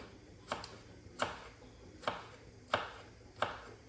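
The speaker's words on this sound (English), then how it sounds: "we're just going to chop the chillies" Knife chopping chillies on a cutting board while cooking penne arrabbiata: five crisp, evenly spaced chops at a steady unhurried rhythm, close and moderately quiet with no talking.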